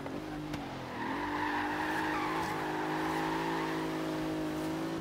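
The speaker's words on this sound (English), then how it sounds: "How's that a drift for that big old Bentley?" A Bentley Continental GT drifts in Forza Horizon 3, its tires squealing in a steady, high sustained screech over a droning engine tone that holds for several seconds.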